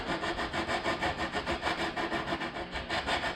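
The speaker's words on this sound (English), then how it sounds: "I'll take with this little block sander here, and I'm just gonna round out that" A small hand block sander, a 1x2 wrapped in sandpaper, rubbing over MDO plywood to smooth a rough cut edge, a steady rhythmic back-and-forth scratching of quick even strokes, close and continuous.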